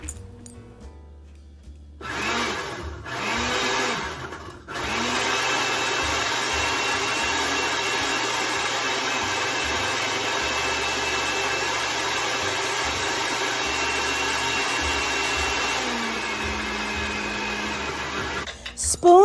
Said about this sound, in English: place juice ice cubes in a blender and pulse until slushy consistency